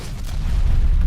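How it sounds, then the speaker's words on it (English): An explosion in the video game Call of Duty Cold War, heard as a dull, sustained low rumbling boom lasting about a second, fairly loud, with no speech over it. "Someone just missed us with explosives."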